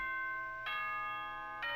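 A two-tone announcement chime from Danganronpa: Trigger Happy Havoc, a bright electronic ding-dong with a sustained first note and a second strike near the end, ringing clearly over quiet background.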